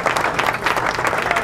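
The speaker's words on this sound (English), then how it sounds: "thank you for your applause" Audience clapping in a room at a live presentation, a brief burst of close, fairly loud applause with rapid irregular claps.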